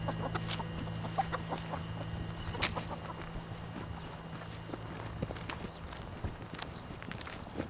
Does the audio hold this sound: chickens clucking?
yes